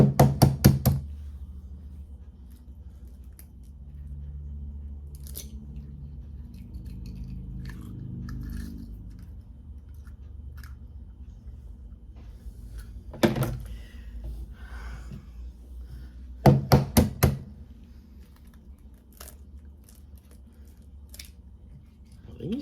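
Eggs with very fragile shells are cracked into a mixing bowl of boxed cornbread mix, with a few sharp clustered taps and cracks near the start and again midway, spaced apart over a low kitchen background hum.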